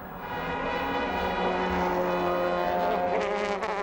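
DTM touring race cars, including an Opel, at the Oschersleben circuit in 2000, a high sustained engine whine with layered harmonic tones at steady pitch, loud and continuous.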